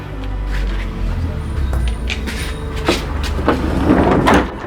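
An old glass sliding entrance door of a Kyoto townhouse, fitted in the Meiji or Taisho era, rattles and rolls open with scraping clatter and knocks, close and fairly loud.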